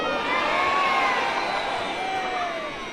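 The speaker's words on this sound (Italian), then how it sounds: "Faremo una votazione con un grido" A crowd gathered in a town square shouts together in a loud, sustained collective roar with some whoops, swelling near the start and easing slightly toward the end.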